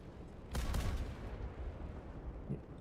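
Heavy ship cannons firing in the space combat game StarWrath, a deep booming blast followed by a rumbling roll that fades under a steady noisy background, with a smaller thump near the end.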